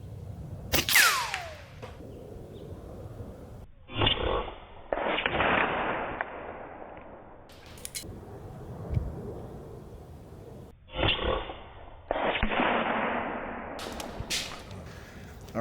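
An Umarex Zelos air rifle, a PCP clone of the FX Impact M4, fires at a shotgun shell target outdoors: several sharp cracks and impacts spread over the span, each followed by a short rushing tail, with a faint voice between.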